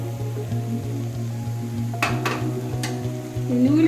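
Sun-dried vadiyalu fry in hot oil with a steady sizzle as they go into a raw jackfruit curry, with occasional metallic scrapes and clinks of a spoon against the pan.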